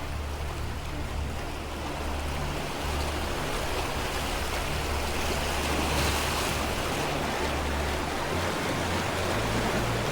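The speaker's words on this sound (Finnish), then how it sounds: "On kyllä upea koski." River rapids roar steadily around a SUP board paddled through a rocky stretch of river, a dense, constant wash of rushing water close by that lasts throughout, with no voices.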